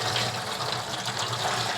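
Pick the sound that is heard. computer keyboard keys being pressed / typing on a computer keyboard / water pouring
water pouring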